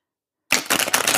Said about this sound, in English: Let's get some shuffling here for